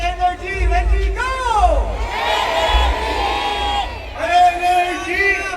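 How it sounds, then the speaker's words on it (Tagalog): A crowd yells together in unison at a live event, a loud massed shout with whoops and cheering rising and falling over several seconds, close and energetic, with an amplified voice leading them. "Kung may energy kayo, sabay-sabay kayo sumigaw ng energy"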